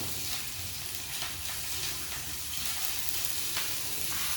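Garlic and ginger paste fries in a pan with a steady, soft sizzle and faint stirring scrapes, continuous and fairly quiet, with no talking.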